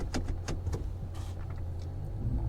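An off-road vehicle with a Wolfbox G900 camera on its front bumper idles and creeps up a trail obstacle, a steady low engine rumble with faint creaks and rattles throughout.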